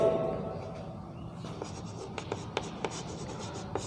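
Chalk or pen writing strokes during a science lesson, a run of short scratchy taps and scrapes that grow more distinct toward the end, fairly close but quiet, with no talking.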